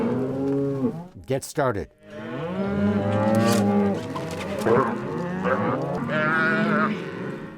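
Cattle and calves in a temporary ranch corral during a branding gather, several loud overlapping moos and bawls close by, one after another, with a brief knock and a short voice near the start.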